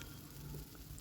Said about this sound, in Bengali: এটাকে আবার একটু ভেজে নিচ্ছি যাতে আদা আর রসুনের কাঁচা গন্ধটা চলে যায়